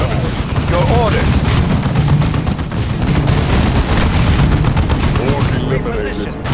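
Orc gunfire in the Warhammer 40,000: Dawn of War 2 video game, loud sustained bursts of automatic fire and booming impacts running nearly nonstop, with brief game voice callouts mixed in.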